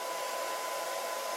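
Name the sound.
touch screen blow dryer running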